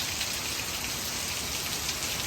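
Heavy rain pours down on an Appalachian Trail hiking day, a dense, constant hiss of drops that stays close and even with no voices.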